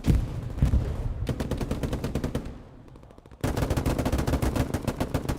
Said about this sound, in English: Just firing wildly, hoping to hit something.